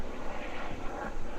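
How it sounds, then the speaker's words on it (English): A low-flying hospital helicopter passes over Carmel, Indiana, a steady broadband engine and rotor roar holding at moderate loudness for a short stretch with no talk over it. "there's a helicopter flying low"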